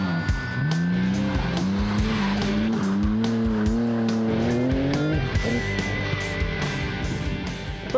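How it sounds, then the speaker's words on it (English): Car tyres squeal continuously on a skid pan as a race car circles, the high wavering squeal rising and falling over the engine's steady drone, loud and close with no voices. "There was plenty of tyre squealing though, and the odd piece of sideways action."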